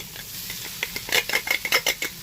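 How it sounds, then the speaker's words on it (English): A spoon scrapes and mashes potatoes sautéing in an onion mixture in a pan, a run of quick close clinks and scrapes growing busier toward the end over a faint background. "While sauteing the potatoes in the mixture, you just need to mash it with the back of the spoon"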